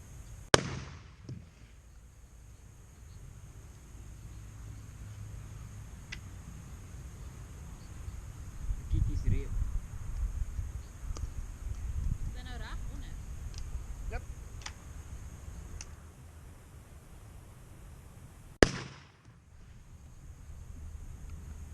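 A shotgun fitted with a magnetic flashlight mount under the barrel fires two sharp, loud blasts, one near the start and another near the end, with faint wind and outdoor background noise between them.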